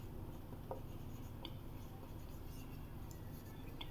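Marker or chalk strokes on a board during a chemistry lecture, faint and close, a few short scratchy squeaks spaced over a steady background hiss.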